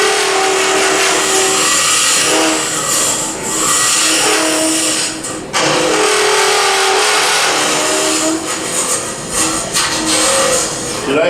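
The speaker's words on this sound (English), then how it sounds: "Should I have mentioned that wood turning can be loud, make annoying noises?" Wood lathe turning a lidded box, with a gouge cutting the spinning wood in a loud, continuous scraping whine that wavers steadily, close up and without talk.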